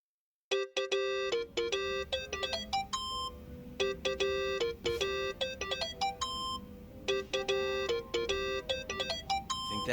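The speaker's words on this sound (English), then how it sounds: "think that's your phone, man." A phone ringtone plays in the video game Yakuza: Like a Dragon, a loud, bright electronic melody of rapid repeating tonal chimes that runs continuously for several seconds without talk.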